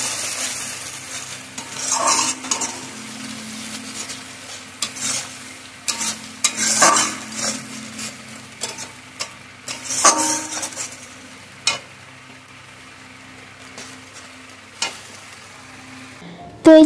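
Spiced paste of ginger, garlic, onion, tomato and dried chili being stirred and fried in oil, with steady sizzling and repeated scraping strokes of a spoon against the pan, loud and close, with no talk.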